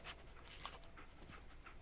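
Dogmeat, the dog companion in Fallout 4, panting in quick, breathy bursts, close and fairly quiet, alone without talk.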